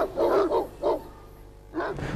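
A dog barks close by, three quick woofs, then a pause and one more, with no voices.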